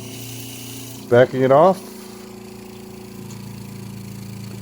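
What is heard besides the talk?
Seaflo 42 Series water pump running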